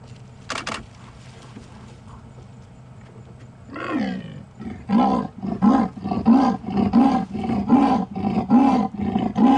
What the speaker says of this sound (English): she does need to increase the volume and let off that loud rasping roar